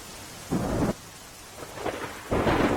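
Heavy monsoon rain roars steadily in Umarpada while thunder rumbles in two loud, booming bursts, with a softer rumble between them.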